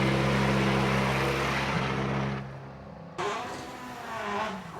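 A rallycross car engine idling and revving as it pulls up to the start line at a World RX race in Sweden, a loud steady engine drone that dips then surges again, close by.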